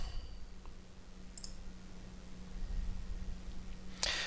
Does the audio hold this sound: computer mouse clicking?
yes